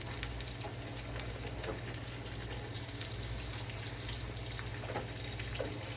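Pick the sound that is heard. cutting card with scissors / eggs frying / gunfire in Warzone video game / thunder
eggs frying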